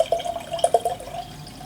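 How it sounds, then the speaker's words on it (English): Ascension cider pours from a can into a glass, a brief close gurgling trickle with a few bubbly splashes, alone without talk. "let's get the can open, let's get it poured out"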